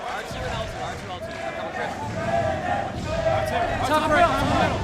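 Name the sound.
crowd cheering at a Halo 3 MLG Pro Circuit event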